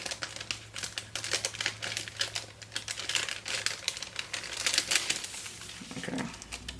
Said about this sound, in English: I'm going to go ahead and put my journaling stickers down.